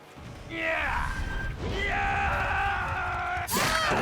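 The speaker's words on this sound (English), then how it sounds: "I'm gonna fake scream, make her go behind the rock." A survivor's scream in Dead by Daylight, a strained voice with rising, wavering pitch cutting through game ambience, followed by a second sustained cry and a sharp burst near the end.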